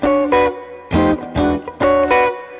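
On a guitar, a single note on the high E string at the 9th fret, the 13th of an E7 chord in a solo blues piece, is picked in short repeated bursts with brief gaps between them.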